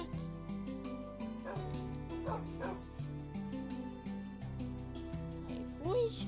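Wolves in a video game whimper, yip and bark in short bursts over steady game music, fairly quiet and close, with no talking.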